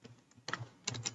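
Soft, close keystrokes on a computer keyboard tap out a short run of a Python script in an irregular rhythm, faint and quiet with no talking.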